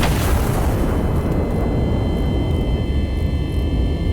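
A heavy turret cannon fires in Iron Nest, a single loud blast that booms out and then decays into a long, rumbling roar.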